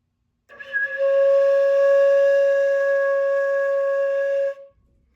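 A beginner flute holds a single steady C sharp, a clear breathy tone lasting about four seconds with a soft onset and clean cutoff, played alone and close.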